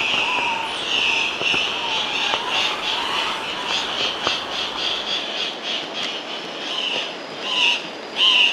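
Andean cock-of-the-rock males calling at a lek in Ecuador's cloud forest, with repeated squawking calls over a steady bed of insect and bird chorus, some nearer and louder toward the end.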